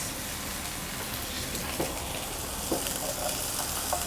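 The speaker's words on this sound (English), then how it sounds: "The chicken is almost cooked. It's browning nicely" Chicken pieces sizzling and browning in a hot pan for Nigerian jollof, a steady dense frying hiss with occasional small pops and stirring scrapes, close and continuous.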